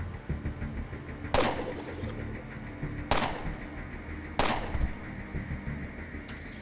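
Rapid bursts of gunfire in the video game Underrail: three sharp, loud shots spaced over a couple of seconds, each with a short ringing decay, against a low steady game background.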